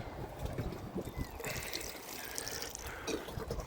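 Plants being watered on a spring allotment near strawberries and polytunnels, a steady close splashing and trickle of water running continuously throughout.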